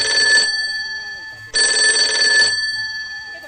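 A mobile phone rings loudly and close, two long electronic ring bursts separated by a short gap, with faint background sounds underneath.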